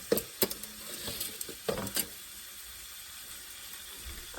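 Beef sizzling and frying in a pan for beef pepper rice, with a few sharp scrapes and stirring clatters early on, then a steady quieter hiss that holds through to the end.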